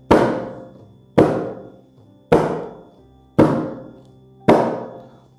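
A closed 'ka' stroke on a mridanga, fingers pressed flat against the drumhead, struck five times at a steady, slightly slow pace, each a sharp, damped thunk with a short decaying tail, close and alone.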